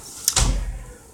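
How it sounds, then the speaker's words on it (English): A door swings shut with a quick scrape, then a dull, close thump that fades out over about a second. "Aubrey, close the door."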